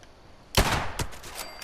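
Video game gunshots ring out, one sharp loud blast followed by a quieter second report and fainter trailing pops within less than two seconds.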